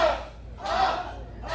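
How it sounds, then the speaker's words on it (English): A wrestling crowd cheers in pulsing waves, rising and falling about three times in quick succession, loud and echoing. "Crowd trying to get behind Diablo"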